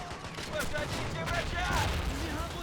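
Close-quarter combat gunfire in the Berlin battle of a video game running the RobZ Realism Mod, with scattered shots and bursts over a muddy battlefield din, partly under talk.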